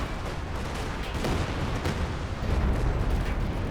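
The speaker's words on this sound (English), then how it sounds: "There's a Katyusha barrage there." A Katyusha rocket artillery barrage in Company of Heroes 2 fills the scene with a dense, continuous roar of launches and blasts, loud and unbroken, swelling slightly toward the end.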